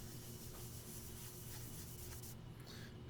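Minwax wipe-on poly rubbed by hand onto dyed wood, a steady soft scrubbing and swishing that runs close and continuous throughout, fading toward the end.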